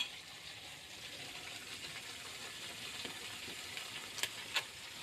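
Chicken liver and masala stirred in a frying pan, a steady soft sizzle with occasional scraping clicks of the spoon near the end, faint and continuous.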